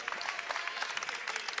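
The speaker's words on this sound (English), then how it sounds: "Fuelhart checks out to an ovation from the crowd." Steady applause from a basketball crowd giving an ovation to a player checking out of a high school boys game, dense clapping throughout with no pauses.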